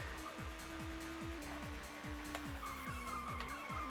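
A touring car races a lap in the PS1 game TOCA Touring Car Championship, its engine note climbing and dropping through repeated rapid gear shifts, loud and continuous with a faint squealing edge.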